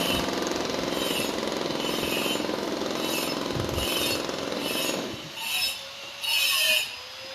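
Construction work at a housing site in Tanza, Cavite, with a jackhammer-like rattle running steadily before cutting out, leaving a few faint scraping and knocking bursts.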